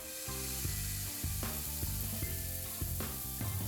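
Blueberry pancake batter hits hot oil in a pan, producing a loud, close sizzle with a few sharp crackling bursts and stirring clatter over a steady hiss.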